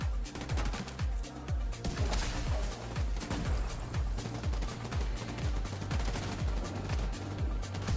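Rapid video-game gunfire in dense, overlapping bursts of shots and booming impacts, loud and nearly continuous throughout, with no talk.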